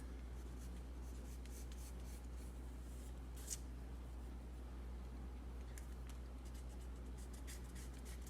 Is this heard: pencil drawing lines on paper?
yes